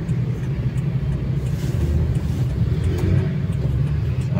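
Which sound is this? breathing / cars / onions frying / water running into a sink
cars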